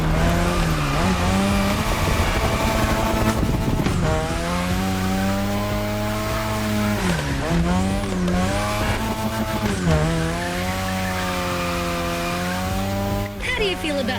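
A modded RX-7 drifts in The Crew Motorfest, its engine revving and wavering loudly as it slides, with tire squeal running throughout and up-and-down pitch sweeps marking the throttle changes.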